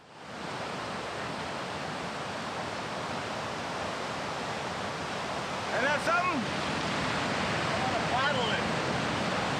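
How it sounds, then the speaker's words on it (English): River water rushing in a steady, loud broadband roar that fills the whole stretch, with brief voices speaking faintly over it partway through. "'Cause we finally found this bloody river that we have to cross."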